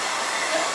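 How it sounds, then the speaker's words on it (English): A hand-held blow dryer drying freshly applied paint and glitter roars in a steady, close, loud broadband whoosh for a brief moment, with no voices. "So I'm gonna hit it with the blow dryer"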